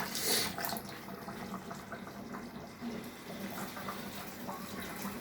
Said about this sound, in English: You just wash the rice